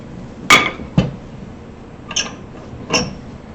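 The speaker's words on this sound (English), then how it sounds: "So you're going to have to tap it a little bit to get that to come out." A glued cutting board is tapped free of metal bar clamps in a workshop: four sharp knocks with short clinking rings, spaced irregularly, close and fairly quiet against a soft background.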